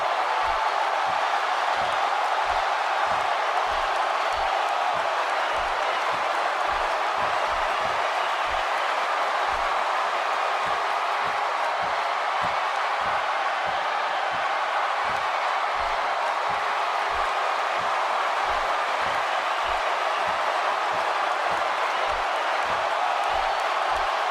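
Crowd noise fills a WWE 2K18 video game arena as a steady, dense roar of cheering. Regular low thumps run underneath it throughout.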